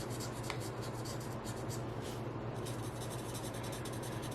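Quiet, continuous scratching of a pen coloring in a card design, with short repeated strokes over a steady faint background hiss.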